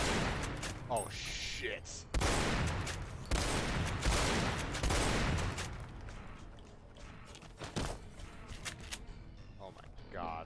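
Loud shotgun blasts boom in bursts against ghouls in Fallout New Vegas, heavy gunfire crowding the first half and then thinning, with a voice exclaiming over the shots.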